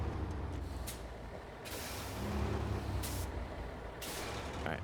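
A truck in a driving video game sounds loud and close: a steady engine rumble with repeated short hisses of air brakes releasing pressure. No one speaks.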